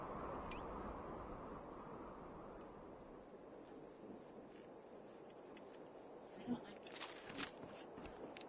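Insect-like chirping from a cricket in Fallout 4, a steady high-pitched pulsing trill repeating throughout, faint under low rumbling ambience with a few soft thumps like footsteps.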